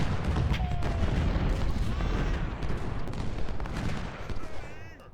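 Dense, continuous volleys of repeating-rifle fire and distant booms from a large Civil War battle at Chickamauga in Ultimate General: Civil War, a steady rolling roar of gunfire across the whole stretch with no talk.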